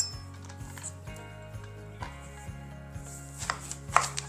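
A knife chops zucchini and squash on a cutting board in steady, evenly spaced knocks, close and clear, with a few sharper cuts near the end and no voices.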